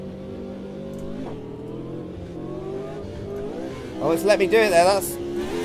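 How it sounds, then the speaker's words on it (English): Gearbox grinding in a car in Automobilista 2, a racing video game, heard as a harsh burst over a steady engine drone while someone talks through it. "You can hear I'm grinding a gear there."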